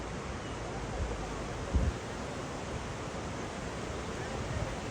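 An incoming tide pushes up a river near Sonagazi, Feni, making a steady broadband wash of flowing water mixed with wind rumble. One brief thump breaks the flow near the two-second mark, and someone speaks over it.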